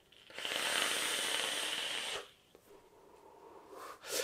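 A long breathy exhale of Cyclops Vapor Colossus sweet vanilla custard e-liquid vapour, a steady close hiss lasting about two seconds, then fading to quiet with a faint second puff near the end.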